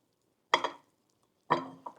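Raw pork being mixed with a little corn flour for a stir-fry, two short wet squishing bursts about a second apart, close and distinct against near silence, with no speech.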